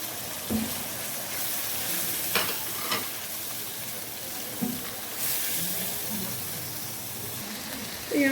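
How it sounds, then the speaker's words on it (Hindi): Cumin, turmeric and garam masala fry in a pan with a constant soft sizzle, punctuated by several stirring knocks and scrapes, close and moderately loud with no talking. "तो यहाँ पे देखिए मेरा मसाला वगैरह सब अच्छे से भून चुका है।"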